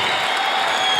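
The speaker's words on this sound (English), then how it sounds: "Faisal Al Kitbe gets a standing ovation from the crowd here" A crowd at a World Pro 2017 match bursts into a standing ovation, a loud, dense wash of clapping and cheering filling the whole moment.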